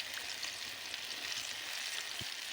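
Green chilies fry in hot oil with a steady, soft sizzle and crackle, heard fairly faint and close with no talking.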